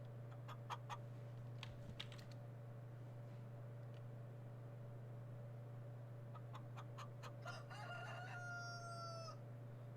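Farming Simulator 19 chickens cluck in short repeated bursts and a rooster crows once near the end, all faint against a steady low hum of background game ambience.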